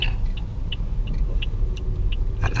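A car easing off the gas and slowing down during a driving lesson on a turn, steady road rumble and engine hum with a few faint ticking clicks, no voices.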